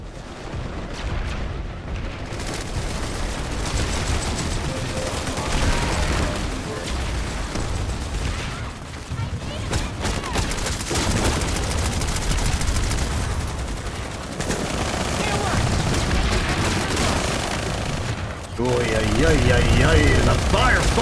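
Dense, continuous gunfire and explosions from a chaotic firefight in the video game Planetside 2, loud and sustained throughout, with bursts layered over each other and a voice talking over the battle noise.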